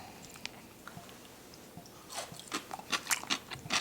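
Close, crisp crunching of someone chewing radish kimchi. Sparse bites at first give way to rapid, louder crunches toward the end, with no talk.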